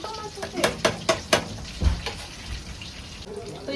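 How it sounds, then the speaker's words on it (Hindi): Chicken pakoras frying in oil in a kadhai, a steady crackling sizzle broken by several sharp clattery stirring strikes near the start, with a low thump midway and faint voices underneath. "थोड़े से और भी तल रहे हैं कढ़ाई में।"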